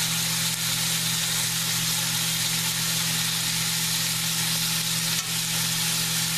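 Liver browning in a pot, giving a steady bright crackling sizzle that runs unbroken throughout, close and fairly loud, over a low constant hum, with no talking.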